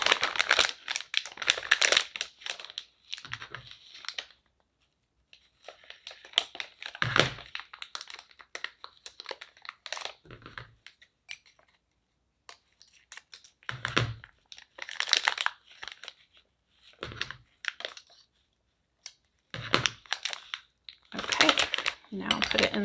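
A plastic piping bag crinkles and crackles while a decorating tip is pushed inside and the end is snipped, for a fake whipped cream topper craft, coming in close, irregular bursts separated by short pauses.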